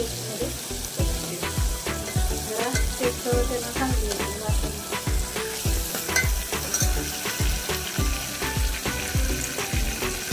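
Curry leaves crackling and sizzling in hot oil as tempering for a mixed toor and moong dal amti, a loud continuous spitting sizzle with rapid pops, no talk.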